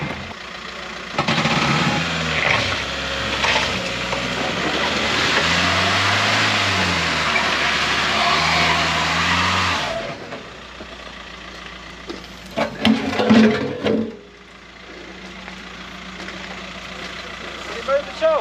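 A 1959 Austin Mini's engine revs hard and steady while its wheels spin in slime, loud and close under people talking, then drops away to quieter idling with clanks and knocks near the end.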